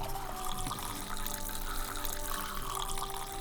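Whiskey poured into a bar glass in the Saloon Simulator game, a steady faint liquid stream with a soft hollow trickle, continuous and alone without talk.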